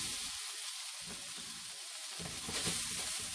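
Onions frying in oil in a pan over medium-high heat, a steady close sizzle and hiss that continues throughout with slight swells.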